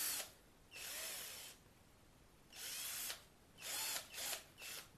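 BUILDSKILL cordless drill driver spinning in four bursts, a close high-pitched whine that starts and stops abruptly, with short pauses between runs and no voices.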